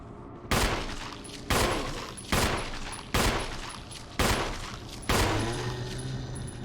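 Six heavy gunshots from Jill's handgun in the Resident Evil HD Remaster video game, spaced roughly a second apart. Each is loud and sharp with a short ringing decay, and the shots play alone without talk.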